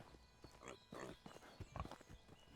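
Horse hooves clip-clopping in the medieval survival game Medieval Dynasty, a few soft uneven footfalls with faint rustling, ending in a sudden louder thump.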